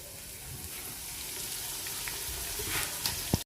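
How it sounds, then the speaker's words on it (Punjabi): Onions fry in ghee while korma is being made, giving a dense sizzle that holds steady and builds a little near the end. A few clinks and scrapes from stirring show up over it. "ਇਹ ਜਿਹੜਾ ਘੀ ਪਾਇਆ ਸੀ ਉਹਦੇ ਵਿੱਚ ਹੀ ਹੁਣ ਪਿਆਜ਼ ਪਾ ਦਿੱਤੇ ਨੇ"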